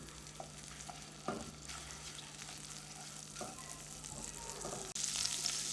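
Chorizo fries in a pan with a soft, continuous sizzle and a few light stirring knocks, faint and close, with no voices.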